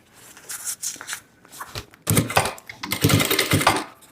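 A sewing machine stitches fabric to finish the seam of a thermal bag, running close by in short stop-start bursts of rapid needle chatter with brief pauses between runs.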